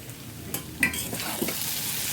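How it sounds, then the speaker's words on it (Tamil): Elephant foot yam fries to a reddish brown in an iron kadai, a close, steady sizzle with a few scraping stirs and faint clinks of a utensil against the pan. "இது கருணக்கிழங்கு செவந்துட்டுருக்கு"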